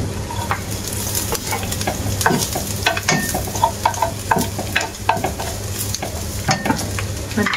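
Dry pancit noodles fry in cooking oil with a constant close sizzle, while a utensil taps and scrapes the pan in irregular stirring strokes and no one speaks.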